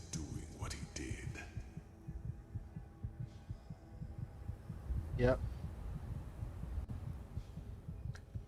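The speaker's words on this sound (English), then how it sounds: "It's annoying that they've kept me on such low health that we've constantly got this heartbeat the whole time." A low-health heartbeat sound effect from the video game Enderal: Forgotten Stories pulses as a soft, repeating low thumping under quiet game ambience, with a voice speaking briefly.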